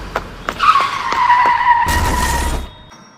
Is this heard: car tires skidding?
yes